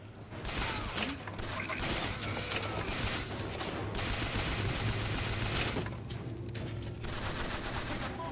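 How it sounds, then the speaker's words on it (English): Splicers shoot up the place in BioShock Infinite: Burial at Sea, with dense sustained gunfire and rattling bursts that carry on loudly for several seconds, along with mechanical clatter and no voices. "Kind of hard to miss them when they're shooting up the place."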